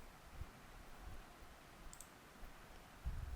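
Quiet, sharp computer mouse clicks on a retest button in a heart disease prediction app. A few isolated clicks stand out over faint background hiss, near and dry, with no talking.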